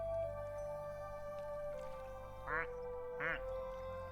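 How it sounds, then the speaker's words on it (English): Two little cherry ducklings quack in two short, bright bursts, close and fairly quiet, over a steady electronic hum and a sustained tone. "some of the ducks have different quacks"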